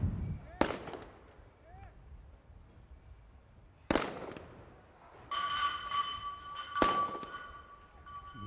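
Sniper rifle shots at a SWAT team sniper challenge in the United Arab Emirates, three sharp cracks spaced a few seconds apart with faint echoing tails over light background noise.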